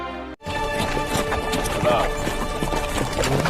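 A horse's hooves clip-clop in a quick, even rhythm under a speaking voice, close and fairly loud after a brief break at the start.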